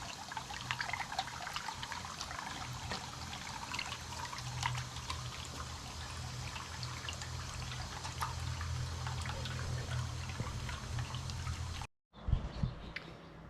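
Water pours through a half-inch hole into a Langmuir Crossfire plasma cutting table. It makes a steady rushing trickle that runs for about twelve seconds before cutting off briefly.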